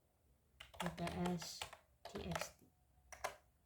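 Typing a command on a computer keyboard, with bursts of quick, close key clicks in several clusters, partly under a low voice speaking.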